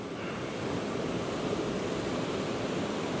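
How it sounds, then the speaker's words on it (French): A small river flows steadily during a trout fishing season opening, giving a continuous, fairly loud rushing wash of water with no pauses and no voices. "vous pouvez remarquer vraiment une petite rivière vraiment formidable"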